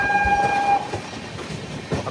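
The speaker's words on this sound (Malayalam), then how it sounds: "അങ്ങനെ മധുരയിൽ നിന്നും നമ്മുടെ ട്രെയിൻ എടുത്തു." A train pulls out of Madurai station, steady rolling rumble and clatter of carriages with a sustained whistle-like tone early on and occasional clunks, loud and close with no voices.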